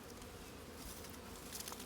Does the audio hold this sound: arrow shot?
no